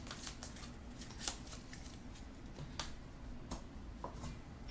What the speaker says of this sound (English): we're going to shuffle the invention deck